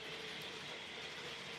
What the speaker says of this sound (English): So I'm staying in with the train set.